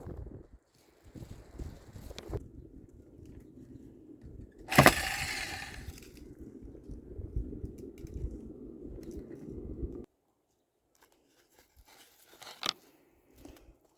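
A spacer washer being cut out, close scraping and cutting strokes with one sharp louder snap midway, then quiet and a brief final burst of cutting.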